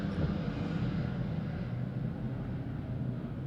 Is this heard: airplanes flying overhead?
yes